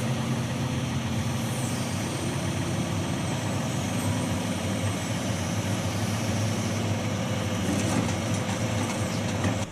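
A heavy logging truck's diesel engine rumbles steadily while logs are loaded in a forest, a continuous dense drone with faint metallic clanks and squeaks from hydraulic crane loading.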